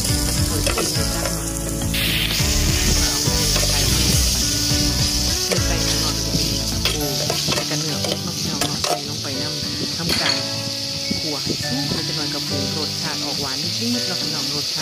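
Shallots and garlic stir-fry in a pan over a charcoal stove, a loud steady sizzle with scraping stirs throughout, which eases partway through while frying continues under faint background sound.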